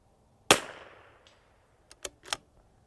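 A CZ 457 .22LR rifle fires one sharp, loud crack outdoors, followed by a fading tail. Moments later come three fainter, quick clicks and clacks as the action is worked.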